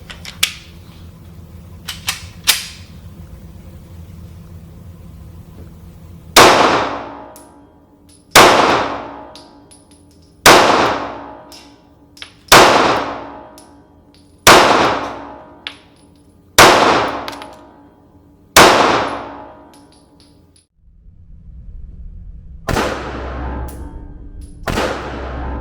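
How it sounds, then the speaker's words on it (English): Seven sharp gunshots from a CZ P-10 M pistol, fired singly at a steady pace about two seconds apart, each loud and close with a ringing decay, followed by a brief pause and one more shot near the end. "We're going to run some rounds through this and see how it does."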